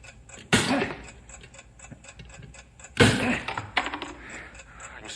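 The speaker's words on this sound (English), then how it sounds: "I can still hear the ticking, Bill." A bomb's timing device ticks in a steady, quiet rhythm, broken twice by loud, sharp knocks and clanks as the mechanism is struck.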